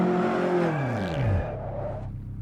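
Caterham Supersport engine blips loudly on a downshift under braking, its pitch sweeping down sharply through the rev drop, then settling into a lower steady drone, close and clear.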